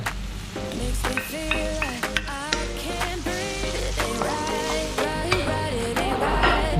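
Garlic and onion frying in a pan while being stirred: a steady close sizzle with scraping stir strokes, and a faint wavering tone running through it.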